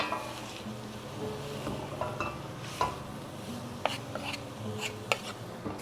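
Potato filling gently tossed with grated melting cheese such as mozzarella for gorditas de papas, soft stirring scrapes with a few light utensil clinks against the pan, close and quiet, no talk.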